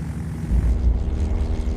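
Search plane flying overhead in the Alaska winter, a low droning propeller engine rumble that swells louder midway and stays steady, heard from a distance without talk.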